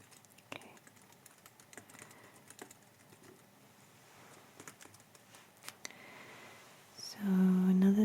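Soft keyboard typing during a calm travel-agent roleplay, scattered light taps and clicks at low volume, ending with a louder tonal sound near the close.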